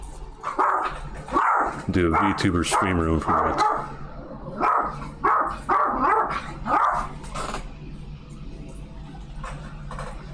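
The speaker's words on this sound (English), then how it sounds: "Yeah, sorry about the doggo." A pet-sat dog barks and yips repeatedly in short bursts, fairly close and loud, mixed in with a person talking over it indoors.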